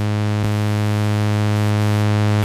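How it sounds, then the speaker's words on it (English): Harsh, buzzy layered sawtooth-wave synthesizer tone held steady for about two seconds, dense with bright harmonics and briefly broken by a tiny dropout near the start. "So it's called a sawtooth."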